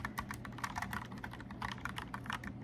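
Rapid, steady clacking of someone typing on a mechanical keyboard, close and crisp, with keystrokes tumbling in a quick irregular rhythm and no talking.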